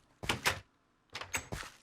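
Wooden doors to the animal pens in a Minecraft snow village opening and closing, two pairs of quick clattering knocks separated by a short silence, close and clear with no talking.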